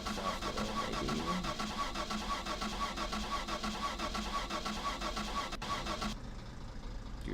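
In the My Summer Car game a car engine cranks continuously in a rapid rhythmic churn, fairly loud and close, then the sound drops away near the end, with no voices over it.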